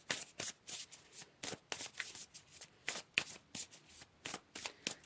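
Tarot cards are handled and shuffled close up in a quiet room, giving a steady run of soft, papery riffling swishes at a regular rhythm.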